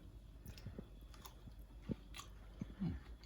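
Someone chews pickled okra, made with salt, sugar, cider vinegar and garlic, in close, crisp crunching bites with small wet squishes, several irregular chews heard near and alone.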